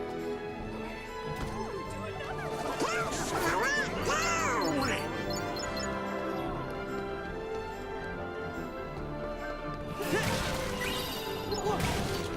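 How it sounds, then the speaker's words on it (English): Wooden barrels being smashed in Kingdom Hearts 3, a run of sharp crashing breaks and clattering debris over a steady game soundtrack, with a burst near the start and another toward the end. "I'm just smashing your barrels"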